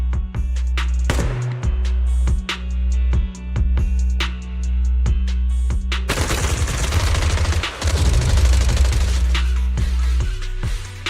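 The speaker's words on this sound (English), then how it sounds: "Gunfire? This pattern. Suppressive marching fire." Rapid bursts of video game gunfire crack in quick succession, sharp and loud, growing into a dense sustained barrage of automatic suppressive fire.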